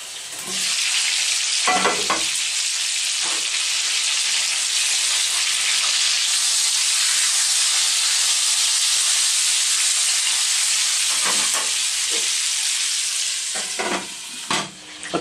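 Chicken pieces fry in a lidded pan with a loud, continuous broad sizzle and hiss, close up and steady throughout, with a few soft knocks near the start and end and no talking.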